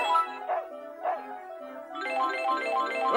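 Dogs in the VTech V.Smile Up video game bark in a few short yaps over a bright electronic music loop, clear and fairly close, with the tune continuing after the barks.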